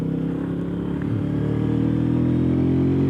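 A Royal Enfield Meteor 350 cruiser motorcycle on the move, its single-cylinder engine droning loud and close with a slight dip and rise in pitch as the rider shifts gears.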